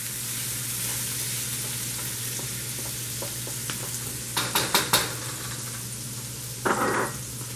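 Chicken chow mein stir-frying in a pan, a steady broadband sizzle throughout with a few sharp clanks of a utensil against the pan midway and a louder scrape near the end; no talking.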